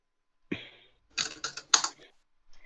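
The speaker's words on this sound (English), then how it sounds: "just literally mash the keyboard and hit enter and see what happens" A computer keyboard gets mashed in a few quick bursts of clattering keystrokes, a single sharp tap at the start, then a cluster of rapid presses, close and dry in a quiet room.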